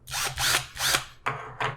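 A power drill whirs in several short bursts, each a second or less, close and loud with a rising-and-falling motor pitch and small gaps between. No one talks.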